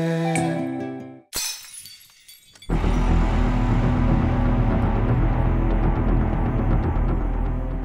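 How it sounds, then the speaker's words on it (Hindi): Glass objects shatter through a laptop speaker: a sharp crash, a brief lull, then a loud, dense stream of breaking and crashing that continues to the end. "लैपटॉप पर कांच की चीजें टूटने की आवाज है"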